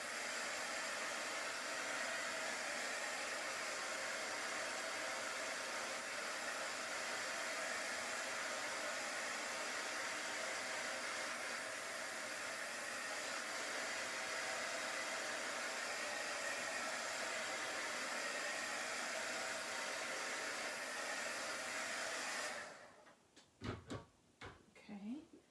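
A hair dryer blows chalk paint dry on a Halloween stencil project, a steady, loud whooshing that runs unbroken for about 22 seconds before cutting off, followed by a few light clicks and handling sounds.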